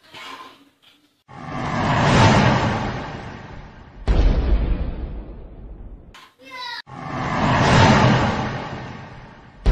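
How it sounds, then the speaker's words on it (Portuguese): Loud booming blasts in the Aquaman film soundtrack, bazooka shots and several heavy explosions with rumbling decay, separated by brief quiet gaps and sharp whooshing bursts. "O meu irmão Sam vai dar dois tiros de uma bazuca do dinossauro"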